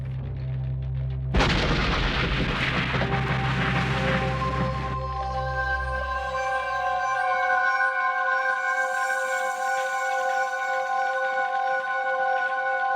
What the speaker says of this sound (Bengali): ঠিক আছে, 3-এ ব্লাস্ট হবে